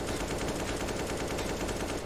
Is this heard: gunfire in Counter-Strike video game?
yes